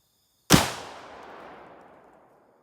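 A single sharp gunshot from an old .32 Winchester Special rifle cracks out as it blasts through wooden blocks, loud and close, followed by a long decaying echo over a couple of seconds in open air.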